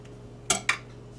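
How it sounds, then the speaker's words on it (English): Two sharp clinks of a knife or utensil against a plate or pan while slices are cut from a warm, freshly baked homemade cake, close and distinct in a quiet room with no talking. "May have to cut y'all 2 slices because this may crumble up"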